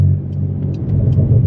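A fast car drives onto a busy Autobahn, its engine a steady low rumble with road noise that builds slightly as it accelerates, heard from inside the cabin with no other sounds.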